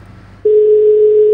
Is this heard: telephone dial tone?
yes